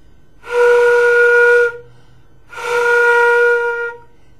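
Two sustained flute B-flat notes played without proper tonguing, each about a second long with soft, unarticulated onsets and a breathy, whistle-like tone, separated by a brief pause, with no talking.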